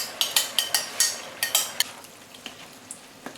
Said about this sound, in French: Alors bien tourner, bien écraser les pichards.